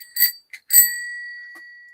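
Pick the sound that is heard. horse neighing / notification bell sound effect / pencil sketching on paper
notification bell sound effect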